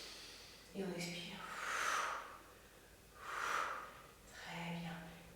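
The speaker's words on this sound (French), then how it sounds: "Et encore une fois, on inspire et on expire" Slow breaths in and out during a beginner pilates exercise, three soft airy breaths rising and fading in turn, with a faint voiced hum at the start of two of them.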